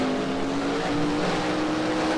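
Race cars in the Second Life video game pulling away from a standing start at the GT Super Series round at LC Racing Circuits Tokyo, a loud, steady engine drone with a sustained tonal whine throughout.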